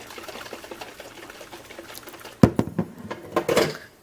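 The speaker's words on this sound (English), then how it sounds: "So you screw the lid back on and you shake it up." A closed jar of ferrofluid mixture is shaken hard, its quiet opening giving way after a couple of seconds to a run of sharp, loud sloshing and rattling bursts up close.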